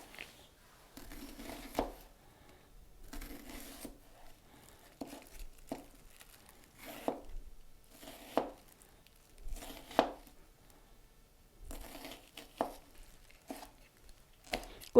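A knife chops a red chili pepper on a board, cutting diagonal slices for a garnish in a Korean kitchen. Steady, close, crisp knocks fall in short irregular bursts with brief pauses and no talk.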